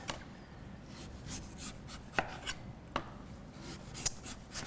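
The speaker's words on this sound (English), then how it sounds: "we're just going to peel it by cutting around the side" A knife cuts and peels the skin from a butternut squash on a kitchen board, quiet scraping strokes with a few sharp clicks and taps spaced irregularly.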